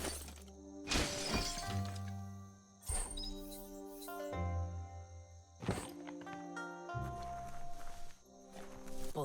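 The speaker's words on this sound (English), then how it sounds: "You shouldn't worry about smashing up the box" A box gets smashed in the video game Biomutant: several sharp, shattering crashes land about every two to three seconds over a steady, tonal game music bed.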